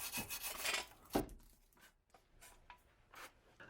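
Rust being scraped and rubbed off a Jeep Patriot rear trailing arm, a series of close, short raspy strokes with irregular pauses, one sharper scrape standing out near the start.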